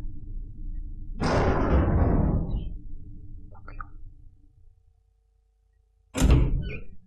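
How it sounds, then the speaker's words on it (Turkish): In the Resident Evil HD Remaster video game, a heavy door creaks open with a long grinding swell, followed by quiet low ambience, a few faint clicks and a second sharp thudding door impact near the end. "Kapı açılma efektleri."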